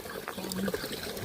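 Running water trickles and splashes briefly while cups and bowls are washed, a short close pour with no talk.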